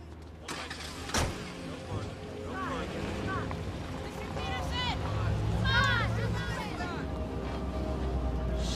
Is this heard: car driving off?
yes